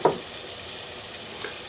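Shrimp fried rice with soy sauce, salt, pepper and dried cilantro sizzles and pops steadily in a pan, with a sharp knock at the start and a small pop near the end.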